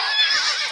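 A horse in a video game neighs in one continuous whinny, loud and close, with no talk over it.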